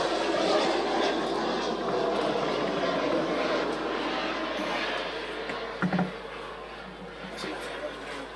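A model aircraft engine drones steadily on final approach to landing at a model flying show, a continuous mid-distance hum that fades slightly as it comes in, with voices talking over it.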